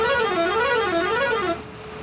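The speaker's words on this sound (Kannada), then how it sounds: "ಬ್ಯಾಕ್ಗ್ರೌಂಡಲ್ಲಿ ಮ್ಯೂಸಿಕಲ್ ಹಾರನ್." Musical bus horn in the Bus Simulator Indonesia video game, playing a loud, wavering, melodic tone for about a second and a half before cutting off sharply.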